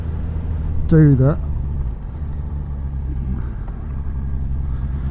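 A motorcycle engine rumbles steadily while riding after removal of its KLEEN air/PAIRS system, with a clean air mod and main jet needle change, giving a low continuous drone with road noise as a person speaks briefly over it.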